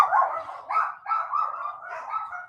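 Several dogs barking and yipping indoors, close and loud, in overlapping bursts that run continuously with no talk.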